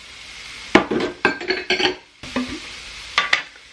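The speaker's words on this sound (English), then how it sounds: "Stir this together real quick" Batter with eggs and melted butter is stirred briskly in a bowl, giving a run of close, rhythmic scraping and clinking strokes of a utensil against the dish, with a brief pause partway through.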